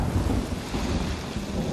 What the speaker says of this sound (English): There's a storm and you're on a boat.